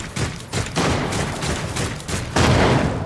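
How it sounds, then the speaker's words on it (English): Rapid gunfire crackles in the sci-fi game Warhammer 40,000: Rogue Trader, a dense volley of shots and bursts in a ship-deck battle, loud and continuous with no talking. "They're shooting over there."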